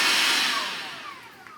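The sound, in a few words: Bosch Readyy'y handheld stick vacuum cleaner running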